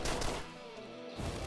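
A boss enemy fires rapid gunfire in the top-down shooter game Deadbolt, with a dense crackling burst of shots, a short lull, and then another burst of fire.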